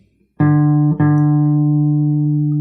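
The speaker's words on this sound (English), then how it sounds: "On the A string, if we hold the 5th fret, this note is actually D." A guitar's A string fretted at the fifth fret rings out a sustained D, plucked twice with a brief re-attack just before one second, loud and clear with no talking.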